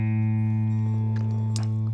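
Guitar's open A string sounding in a chord lesson, one steady sustained low note with rich harmonics ringing close and clear, with a faint extra scrape near the end.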